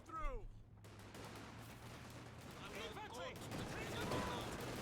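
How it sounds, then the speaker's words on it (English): MG34 machine gun firing in a World War II strategy video game, faint rattling bursts in the distance beneath a continuous battle din and a commentator's voice. "MG34 is here. Came through!"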